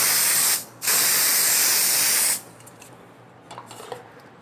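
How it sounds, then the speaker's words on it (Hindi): Hair spray hisses from a can in two close, loud bursts, a short one and then a longer one, with soft handling rustles afterward. "अपनी हेयर स्प्रे लें"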